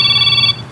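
A cellphone rings with a bright electronic tone, loud and close, sounding steadily for about half a second and then cutting off.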